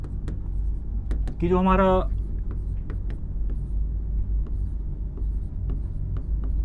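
Writing on a board during a Hindi-language exam-prep lesson: soft, scratchy strokes run through the clip over a steady low rumble, with a brief spoken phrase near the middle.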